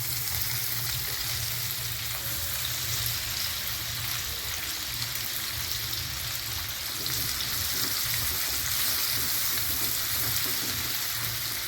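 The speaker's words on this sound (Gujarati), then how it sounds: "તેલ આવે એટલે તેમાં લસણ અને આદુ મરચાં એડ કરીશું" Garlic frying in hot oil for cabbage momos gives a continuous, even sizzle and crackle. It runs steadily with no talking over it.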